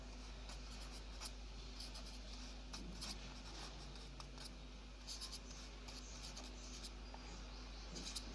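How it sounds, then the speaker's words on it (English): A pen scratches continuously across paper while drawing a diagram, soft close strokes with brief faint taps and pauses and no talking. "So I'm just drawing a diagram here."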